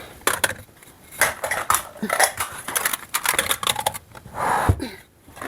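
Plates and dishes being put away, with clattering clinks and knocks of ceramic coming in quick irregular bursts, close and fairly loud.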